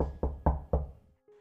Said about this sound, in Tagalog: makarinig siya ng mga katok